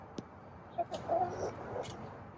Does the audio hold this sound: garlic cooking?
no